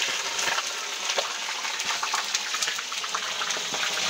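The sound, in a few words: fish frying in a pan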